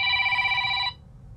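A telephone rings with an incoming call: a bright, trilling electronic bell heard close and clear, then cutting off abruptly as it stops, with a quiet room afterward.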